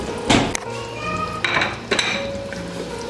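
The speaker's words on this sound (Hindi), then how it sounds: "आलू जो है अब इसमें डालते हैं जी हंडिया में" Potatoes are added to a handi cooking pot with meat and spices, giving close metallic clanks and clinks of utensils against the pot, a few sharp knocks among softer scraping.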